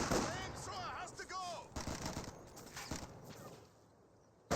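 Gunfire in a Company of Heroes 2 battle, with rapid clattering shots and sharp bursts at moderate distance, followed by a quieter stretch of low battlefield rumble.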